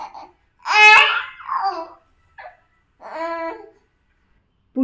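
A four-month-old baby babbling and cooing, with a few bright, bursting vocal sounds and laughs separated by short pauses, close and clear.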